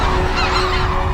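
A flock of cranes in a rice paddy calls in alarm as a golden eagle appears, making loud, dense overlapping honking cries all at once, close and unbroken.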